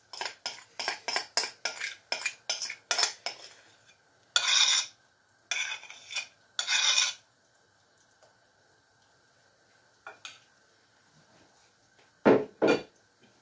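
A utensil whisking batter in a bowl clinks in a quick, steady run of light taps, then gives way to a few longer scraping strokes and a couple of scattered clicks, close by with no talking.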